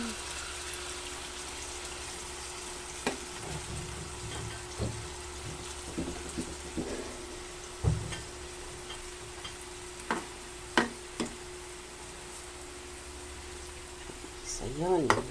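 Marinade tipped into a pan of chicken adobo sets off a soft sizzle with scattered clinks and stirring knocks of utensils against the pan, a low hum running underneath.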